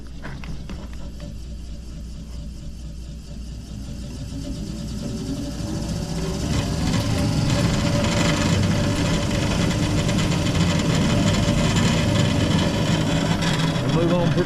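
A spreader/seeder spinner motor whirs steadily, then is throttled up so its hum grows louder and stays at a higher, continuous pitch, heard close by.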